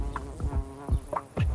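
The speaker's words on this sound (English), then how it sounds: "It's called the mud dauber wasp." A mud dauber wasp buzzing close by, its drone rising and falling in a few short swells over a steady hum.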